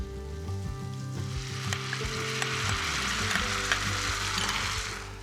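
Mushrooms that have cooked down golden sizzle loudly in a hot frying pan as an oyster-sauce glaze goes in, a steady crackling fry with brief clinks and stirring, no talk.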